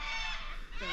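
Birds near Inglewood, Queensland give a single short honking, goose-like call, fairly close and loud against a low background rumble.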